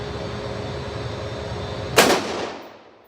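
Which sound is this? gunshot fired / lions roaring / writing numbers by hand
gunshot fired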